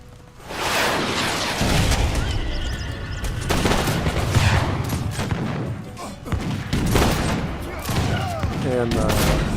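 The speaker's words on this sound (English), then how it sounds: "rockets going into the stable" Rockets slamming into a stable during an Age of Empires 3 Wars of Liberty battle, dense bursts of gunfire-like blasts and booms repeating over several seconds, with a commentator talking over the combat.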